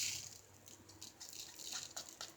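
Leftover diamond painting drills are poured into a container, giving a faint, light pattering rattle with brief bright bursts and no talk.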